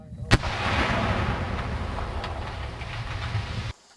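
A demolition charge blowing up a tank in 2003, a sharp loud blast followed by a long rumbling roar that fades out and cuts off abruptly.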